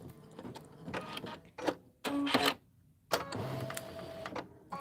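An embroidery machine stitches letters onto a fall-themed banner piece in quiet mechanical bursts, its rapid needle chatter starting and stopping with short silent pauses between runs.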